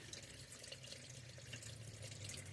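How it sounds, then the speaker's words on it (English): Engine oil draining from a 2016 Subaru Forester after the 14 mm drain plug is pulled, a steady trickling pour of liquid into a pan, continuous and close with no voices. "so I'm going to drain the oil"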